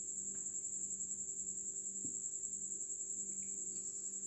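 Steady high-pitched cricket chirping, a continuous insect trill held at an even level throughout, with a faint low hum underneath and no voices.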